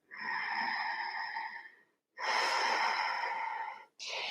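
Slow yoga breaths drawn in and released while standing in mountain pose, two long airy breath sounds close to the microphone, each lasting nearly two seconds, with a short pause between and the start of another at the end.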